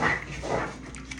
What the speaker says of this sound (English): my dog's going crazy on his bed right now